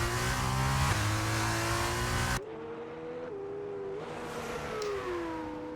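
A race car accelerates hard toward the finish line after a hairpin during a testing session, its engine note loud and sustained, shifting pitch as it passes, then fading to a more distant whine.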